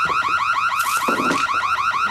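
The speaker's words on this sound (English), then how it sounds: "The alarm will be triggered." A home security alarm blares nearby with a loud, fast warbling siren that cycles without pause, and a couple of brief clattering knocks sound beneath it.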